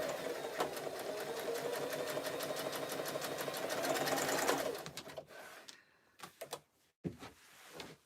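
Sewing machine runs steadily for several seconds while stitching a jelly roll rug, with a fast even mechanical whir, then slows and stops into scattered clunks and knocks of handling the fabric.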